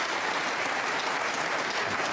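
A knowledgeable crowd at the UK Championship snooker in York applauds a safety shot with steady, sustained clapping that fills the room evenly throughout.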